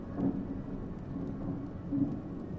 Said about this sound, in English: That was really loud thunder.